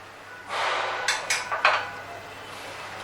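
A spoon stirs mango custard in a cooking pot, producing a steady scraping swish followed by several sharp clinks and knocks against the pot's sides, close and moderately loud with no talking.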